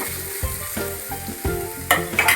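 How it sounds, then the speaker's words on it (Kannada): Tomato, onion and chilli fry in hot oil in a pan, a steady close sizzle broken by repeated stirring scrapes and bubbling bursts, with no voices. "ಟೊಮೊಟೊ ಈರುಳ್ಳಿ ಮೆಣಸಿನ್ಕಾಯಿ ಎಲ್ಲ ಫ್ರೈ ಆಗ್ಯಾವ್ರಿ ನೀಟಾಗಿ ಎಣ್ಣೆ ಒಳಗೆ"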